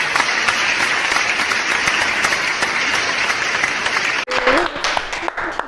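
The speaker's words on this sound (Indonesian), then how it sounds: "Mudah-mudahan tepuk tangan dong semua." Audience applause at an Indonesian talk-show event, dense, steady clapping for about four seconds before it cuts off abruptly and gives way to a quieter mix of sounds.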